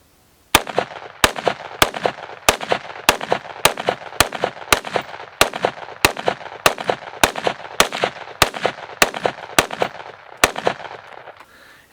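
Rapid 5.56 rifle shots are fired at body armor, about twenty sharp, loud reports in a steady rhythm roughly every half second, each leaving a short ringing decay.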